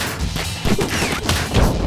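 Rapid gunshots from the Killer Bean animation crack out in a dense, loud burst of repeated impacts and thuds across the whole stretch, with no talk.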